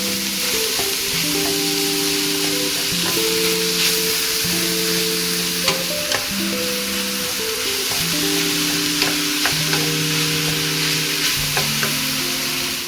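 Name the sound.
minced meat frying and being stirred for bolognese sauce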